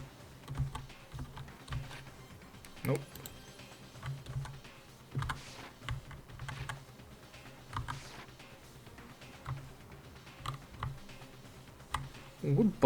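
Computer keyboard keys are pressed during a game session, giving scattered, soft clicks and taps at irregular intervals across the stretch, with a voice briefly speaking near the end.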